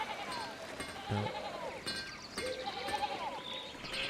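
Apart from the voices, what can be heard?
sheep bleating in the video game Pentiment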